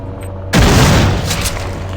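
A single heavy shotgun blast in the video game System Shock 2 bursts out sharply after a short quiet lead-in, then fades into a lingering boom.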